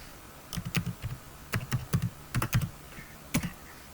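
A new worksheet name is typed on a computer keyboard in Excel as a short burst of distinct, close clicks in small clusters with brief pauses, loud and clear against a quiet room and no voices.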